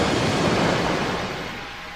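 Rushing, crashing water like heavy surf swallowing an army, a dense roar that stays loud and close throughout and eases slightly toward the end, with no voices.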